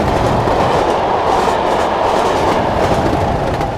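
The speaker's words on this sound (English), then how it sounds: "here's a nice run by shot of the top and tailing 37s" Top-and-tailed Class 37 diesel locomotives running past on a Norwich to Great Yarmouth line in the game Train Simulator 2016, a loud steady roar of engines and rolling wheels that holds throughout.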